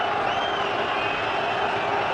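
A cricket crowd at Trent Bridge roars and cheers continuously during a Pakistan versus South Africa match, a dense, loud wash of massed voices with no breaks.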